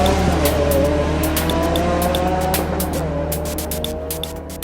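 A Lamborghini Aventador LP700-4 accelerating hard, its loud engine howling close by with rising harmonic tones and rapid gear-shift breaks, staying strong and steady before easing slightly at the end, with no talking.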